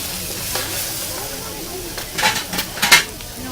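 Gulf shrimp sauteing in a hot pan, a low sizzle building to several louder bursts of hiss and clatter as they are stirred, close by, with no speech.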